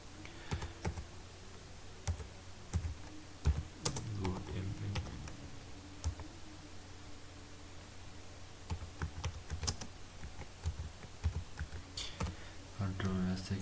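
Keyboard typing in bursts of quick clicks, spread through the span with short pauses, fairly close and moderately loud, with a faint low hum underneath.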